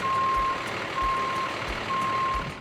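A trailer truck reverses while parking on a quiet street corner in the Bronx, New York, its backup alarm sounding three steady, evenly spaced beeps over a low engine rumble.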